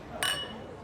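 Two glasses clink together once in a toast, a short bright ring that fades quickly in a quiet indoor setting.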